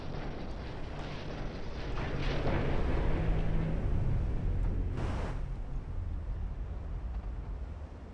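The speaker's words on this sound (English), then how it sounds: "Everyone's firing at will" Warships trade gunfire in the naval battle game Ultimate Admiral Dreadnought, heavy booming rumbles rolling and overlapping with a broad roar swelling midway and a sharp blast near the end.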